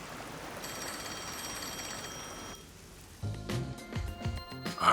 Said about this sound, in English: Oh, the phone. It's a call from the WDO.